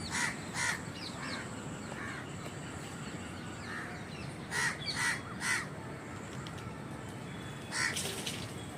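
A crow near its grown chick gives repeated harsh caws in short bursts, clear and fairly close, over a steady outdoor background hiss.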